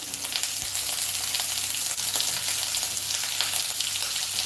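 Beef for biryani fries steadily in hot oil, a dense, even sizzle holding at a constant close level throughout, with a faint stir or scrape now and then.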